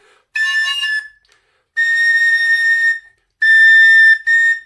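High, piercing tin whistle notes in the third register played in three separate bursts with short gaps, the last two close together, clear and loud with no talking; the C sharp sounds flat.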